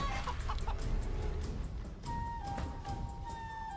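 A chicken in the Divinity: Original Sin 2 game clucks in short repeated bursts over a dense, steady background ambience, moderately faint, with some tonal sound effects chiming in later.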